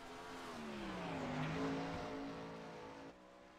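A sprint car engine in a sim racing game roars along the track, its pitch dipping and climbing as the car works through a lap, loud and steady before dropping off sharply near the end.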